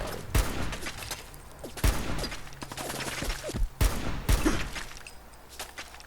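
Gunfire in Fallout 4: four sharp, loud shots spaced about every second or two, separated by quieter combat ambience and faint movement.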